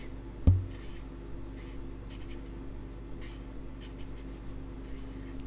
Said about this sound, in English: So I'm drawing round them and doing a waft